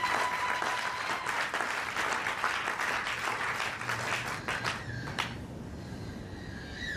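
A church congregation applauding loudly and steadily, dense clapping filling the space before tapering off into a thinner patter toward the end.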